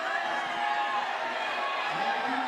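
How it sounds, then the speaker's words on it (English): Spectators at a women's bouldering final in Meiringen cheer and shout encouragement for a climber, a dense sustained roar from a large indoor crowd, with a commentator talking over it. "Crowd getting behind her, they know what this means."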